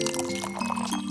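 Diplomático Reserva Exclusiva rum pours steadily from a bottle into a glass for about a second, a close liquid trickle with faint glassy tinkle.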